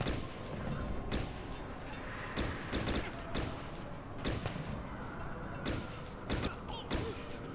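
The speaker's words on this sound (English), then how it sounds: "Why are you having such a terrible time shooting?" Rapid bursts of video game gunfire crack out in irregular volleys, loud sharp shots repeating over a constant layer of background battle noise.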